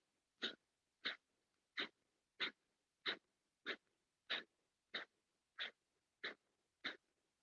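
Eleven sharp, forceful exhalations pumped out at an even pace of just over one per second, each short and breathy with quiet gaps between, during a yoga breathing exercise.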